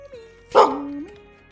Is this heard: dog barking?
yes